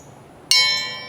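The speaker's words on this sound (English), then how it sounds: "ring the bell" A single bright notification bell ding strikes cleanly and rings out with a shimmering metallic tone that decays slowly over about half a second, alone against near silence.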